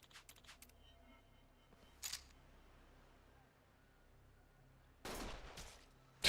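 Gunshots from a cutscene in Like a Dragon: Infinite Wealth: a few sharp, loud cracks, an early rapid cluster, one isolated shot, then a heavier blast near the end, separated by quiet ambience.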